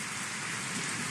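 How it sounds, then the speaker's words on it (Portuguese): A heavy rain shower in Betânia, in rural Angelina, pours down as a dense, constant hiss of rain hitting surfaces, steady and close with no voices. "o vídeo dessa chuvarada que caiu por lá"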